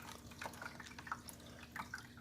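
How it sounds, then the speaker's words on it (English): Water overflowing and trickling back down into a small Back to the Roots aquaponics fish tank, soft scattered drips and splashes, faint and close, over a low steady pump hum. "it overflows and drains back down into the tank, so it's a constant cycle"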